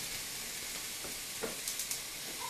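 Food frying in a skillet on a stovetop, a soft, steady sizzle with a few small pops and crackles near the end, quiet and close, with no talking.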